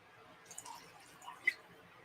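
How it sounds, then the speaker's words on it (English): Drink poured from an oversized bottle into a glass, heard as a few faint, quiet drips and splashes with a brief louder splash near the end, alone with no talking. "we have our usual standard practice of pouring ourselves a glass"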